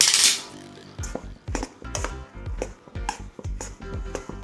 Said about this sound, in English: we're going to mix them together really well to make sure they're all coated evenly